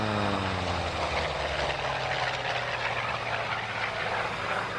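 A Hawker Sea Fury FB-11 piston fighter flies a solo display at an air show. Its engine drones loudly and steadily, and low harmonic tones slide downward as it passes.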